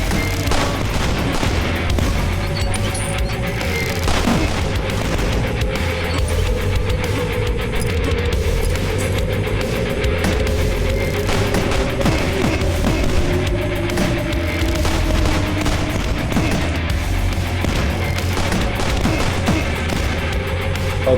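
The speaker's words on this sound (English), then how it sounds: "Oh, they're explosive rounds." Explosive gunfire in the retro first-person shooter DUSK: a loud, dense, unbroken barrage of blasts and booms with bright ricochet-like streaks sweeping through it, relentless and close for the whole stretch.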